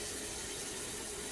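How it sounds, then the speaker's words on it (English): Tap water pours steadily into a pot in a home kitchen while Thanksgiving mashed potatoes are being made, giving an even, close, unbroken hiss with no talking. "I'm just putting a little bit of water in the bottom for now"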